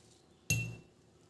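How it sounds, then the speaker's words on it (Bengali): A single bright metal spoon clink against a glass or bowl while coffee powder is stirred into a homemade hair mixture, one sharp strike ringing out and fading over a quiet background. "কফি পাউডারটা আমি এর মধ্যে মিশিয়ে নিচ্ছি।"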